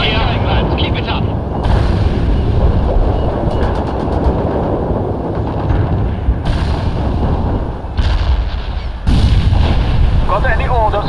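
Heavy artillery barrages rumble and crack without pause in the World in Conflict: Soviet Assault war game, dense booms and rattling gunfire with sudden loud shifts, while radio-style voices talk over the battle.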